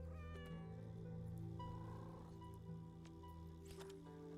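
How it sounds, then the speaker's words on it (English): Idle cat meows from a pet companion in the factory-building game Arknights: Endfield, short mews over a steady bed of game music and ambience, with no talking. "Now with Arcane, you just sometimes get to hear cat sounds."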